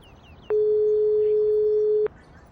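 A steady electronic phone tone from the Broken Sword 5 video game sounds as a call is placed, one long unbroken beep of about a second and a half over quiet background.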